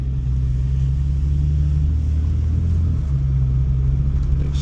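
A Kia Stinger rolls slowly around a track, its engine a steady low rumble with a brief dip as it shifts, holding close and continuous throughout.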